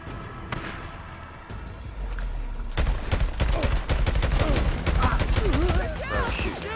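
Rapid bursts of gunfire from the Days Gone Remastered video game crackle in dense volleys, sparse at first then thickening into near-continuous shooting, loud and close with game effects layered underneath.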